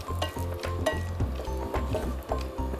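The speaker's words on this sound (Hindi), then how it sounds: "जो काजू हैं उनको बिल्कुल धीमी आंच के ऊपर आप फ्राई करें" Cashews frying slowly over very low heat in a pan, a steady close sizzle with soft popping and faint stirring throughout.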